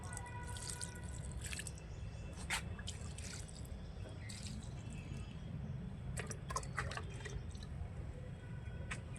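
Curd- or milk-based liquid fertiliser poured onto strawberry plants and kitchen-waste-filled garden pots, giving soft irregular drips and splashes over a steady low background rumble.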